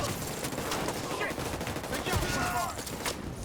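Steady gunfire rings out in a first-person shooter game, with rapid overlapping shots and bursts filling the whole moment while a player's voice talks over the combat.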